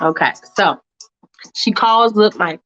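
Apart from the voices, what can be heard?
No distinct noise like a dog, phone or traffic.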